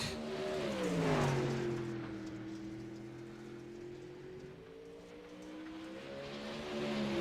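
A Pro Late Model race car in iRacing at Lanier drives a qualifying lap, its engine note rising and then settling into a steady drone before climbing again; moderately loud, with a faint hissing wash underneath.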